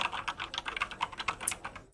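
Fast, continuous clatter of computer keyboard keys, with rapid close keystrokes in a steady flurry for about two seconds before stopping abruptly.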